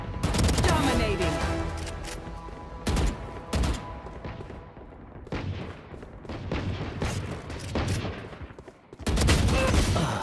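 Rapid bursts of video game gunfire during a livestreamed shooter match: dense, loud volleys and single shots that stop and start, with short gaps between bursts.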